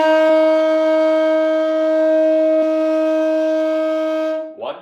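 A saxophone holds a single sustained C note, played with the middle finger, clear and steady for about four seconds before a brief scuffle of noise at the end.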